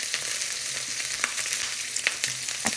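Onions, both red and white, sizzle in a pan as they go in for noodles, a steady low frying hiss broken by a few sharp crackles and soft stirring clicks.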